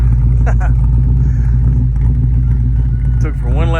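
A 1968 Ford Fairlane drives through snow in Savannah, Georgia, its engine a loud, heavy low rumble held steady throughout while someone speaks over it.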